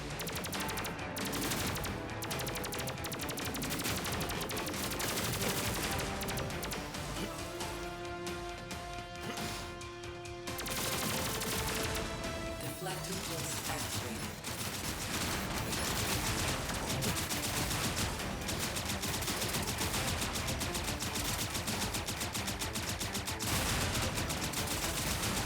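Rapid, dense gunfire rattles nonstop in the side-scrolling game Terminator 2D: No Fate, with bursts of shots and crashes packed over a tonal game soundtrack, loud throughout and without speech.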